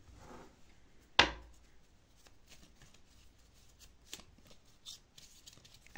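Tarot-style cards being shuffled and handled during a card reading: a sharp slap of cards early on, then soft riffling, sliding and light taps at close range, with no voice heard.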